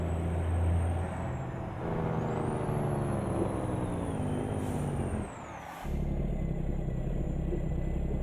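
Loaded truck engine laboring in fifth gear under 24 tons of dried fruit in American Truck Simulator, a steady deep drone with a high whine, briefly dipping before resuming.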